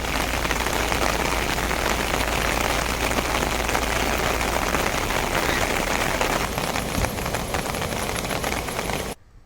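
Rain pours steadily in Bhavnagar, a dense, loud wash of drops pattering on surfaces that continues without a break and then cuts off abruptly at the end.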